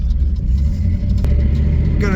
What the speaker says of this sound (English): just pulling out of the driveway